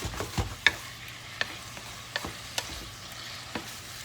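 Salmon and vegetables stirred with sauce in a pan, giving a steady low sizzle with scattered sharp scrapes and clicks of a utensil against the pan, close and alone.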